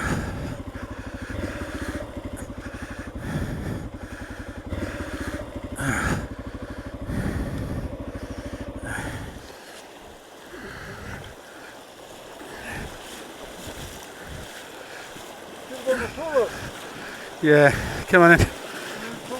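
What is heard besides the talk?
motorcycle in river water, rider wading it toward bank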